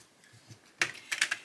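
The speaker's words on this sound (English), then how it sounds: "so let's shuffle these cards and see" Tarot deck being shuffled, a few quick crisp riffling bursts of cards following quieter soft handling sounds, close and brief with no talking.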